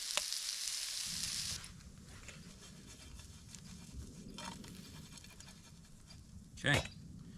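Onions fry over a campfire for SPAM tacos, giving a continuous low sizzle and crackle, with a brief bright hiss at the start and a clink of a utensil near the end.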